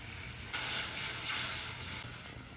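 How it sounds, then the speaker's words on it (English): White wine cooks down in a hot pan with squid, a steady hiss and sizzle that surges louder in two bursts, with no voices. "White wine. And we're gonna let that cook out till it's basically gone."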